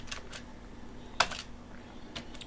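Keys clatter on a computer keyboard in a short, quiet burst of typing, with a sharper single keystroke midway and a few faint taps either side.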